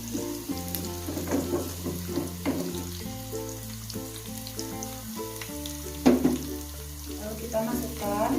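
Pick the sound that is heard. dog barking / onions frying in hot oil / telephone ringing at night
onions frying in hot oil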